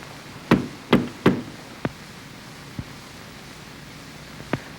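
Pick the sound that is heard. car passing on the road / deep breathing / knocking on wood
knocking on wood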